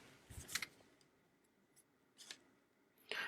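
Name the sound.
scissors cutting ribbon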